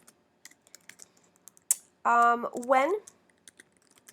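Light, scattered keystrokes on a computer keyboard tap out a sparse rhythm of quiet clicks, broken briefly by a spoken word from a nearby voice before the soft typing resumes.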